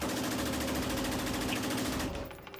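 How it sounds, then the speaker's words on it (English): Fully automatic gun fired at a shooting range, a loud continuous rapid burst of shots lasting about two seconds before cutting off, close and dominant. "You ever shoot a fully automatic?"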